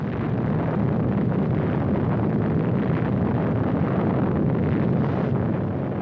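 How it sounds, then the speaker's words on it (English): A sustained, roaring rumble of an atom bomb blast from a 1951 civil defense film, a dense, continuous wall of low noise lasting several seconds without any voice over it. "The blast of an atom bomb is its most important destructive agent."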